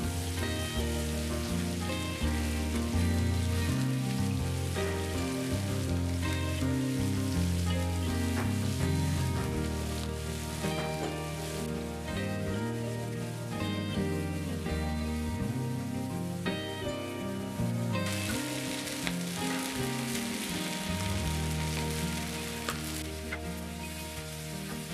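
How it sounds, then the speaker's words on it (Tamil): Steady, loud sizzling of beef brain frying in a hot pan, continuous crackle and spatter throughout with no talking. "அடுப்பை நல்லா கூட்டி வச்சுக்கொண்டே இதை பொரிச்சேன்டா ஒரு 5 நிமிஷத்தில் நீங்கள் 2 சைடையுமே பொரிச்சு எடுத்துடலும்."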